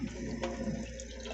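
Water runs steadily from a house tap on the hot side while the pressure drops, a continuous close hiss of flow with no talking over it.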